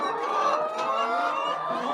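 Laying hens cluck steadily in a coop, a dense overlapping chorus of close, mid-loud calls running continuously without pause.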